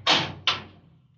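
A door creaks open just a crack in a radio drama: two soft, breathy bursts about a third of a second apart over a low steady hum, fading into quiet.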